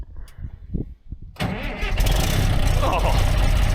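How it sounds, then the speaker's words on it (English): A broken Dresser TD25G bulldozer running on two batteries gets its starter cranked with a few short bursts under talk, then the diesel catches and settles into a loud, rough, close idle. "Let's see if 2's enough to spin her over."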